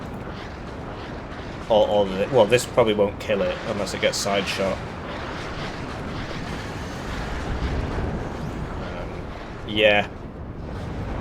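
Grad rocket artillery strikes in the video game Warno land as dull, rumbling explosions that stay low beneath someone talking, with a heavier rumble swelling later in the clip.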